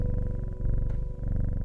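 Cat purring as it is petted in the video game Strange Horticulture, a steady close rumbling purr with a soft pulsing rhythm, heard alone.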